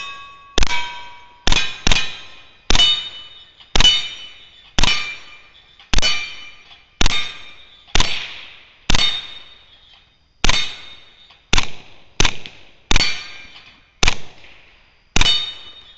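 Repeated shots from an M6TR full power launcher gun, about fifteen sharp metallic clanging bangs fired in an uneven rhythm, each loud and close with a short ringing decay, no talking.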